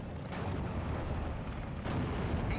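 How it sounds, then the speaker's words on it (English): Hummel artillery fire in the World War II strategy game Steel Division: Normandy 44, a steady rumbling barrage with two sharper booms standing out over dense battlefield noise. "We are seeing some artillery come in here from the Hummel towards the 17-pounder."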